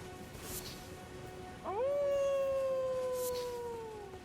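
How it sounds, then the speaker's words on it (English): A wolf howl from the Elden Ring game world rises suddenly and holds one long, slowly falling tone for over two seconds, its harmonics stacked above, sounding at mid distance over a steady low ambient bed. "I keep hearing these howling noises but not having any sense of where they're coming from"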